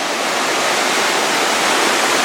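A river pours into a large underground mine cavern, making a steady, loud, broadband rush of water that continues unbroken and without voices.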